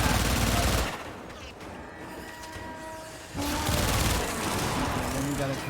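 Weapon fire in Warframe aimed at the boss Sargas Ruk's pack: a dense, loud stretch of sustained shooting and blasts, a quieter gap with tonal game hum, then heavy continuous fire resuming.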